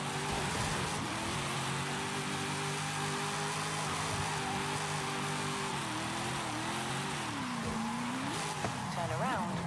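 A car engine in the video game Forza Horizon 5 strains in fourth gear, its droning note holding steady, then wavering and dipping before climbing sharply near the end, with tire squeal and game ambience underneath.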